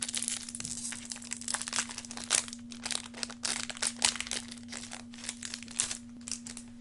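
A trading card booster pack being torn open, a close run of crinkly foil rustling and tearing with small crunches, steady and continuous under a low electrical hum.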